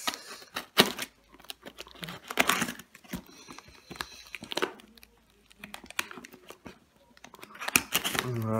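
Cardboard box of a Corsair CX500M PC power supply being opened by hand: close crinkling, tearing and scraping bursts with sharp ticks, in uneven clusters, with someone speaking briefly between the handling noises.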